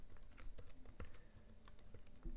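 Irregular clicking of a computer keyboard as code is typed, light close keystrokes in uneven bursts with a few heavier taps, quiet room and no voice.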